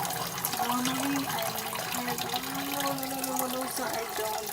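Water from a kitchen sink tap runs steadily and loudly throughout, a continuous splashing rush with faint tonal hums underneath.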